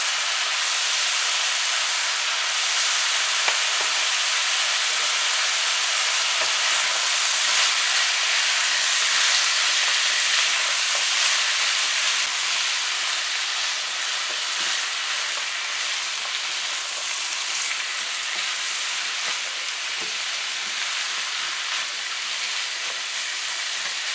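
Pumpkin and shrimp frying in a covered pan, a steady loud sizzle and hiss that holds without pause throughout.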